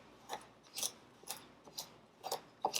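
Dough for oatmeal guava bars being cut in by hand: a run of soft, separate scraping clicks at an uneven rhythm, close and fairly quiet, with no talking.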